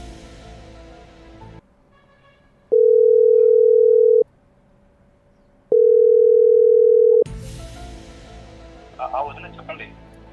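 A telephone call being placed: two long, steady electronic tones sound one after the other with a brief pause between, loud and clear, with room noise and voices before and after.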